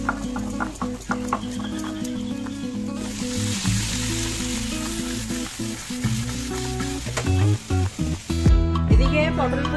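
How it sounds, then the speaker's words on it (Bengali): Potol posto (pointed gourd in poppy-seed paste) and rice boiling in pots on a stove, a continuous sizzling bubble over a steady tonal background, with a few sharper knocks near the end. "এদিকে পটল পোস্ত ফুটছে, এদিকে আমার ভাতও ফুটছে"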